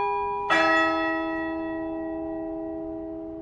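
A single deep, hollow church bell strikes the hour once, loud and near, its resonant hum lingering and slowly fading for several seconds.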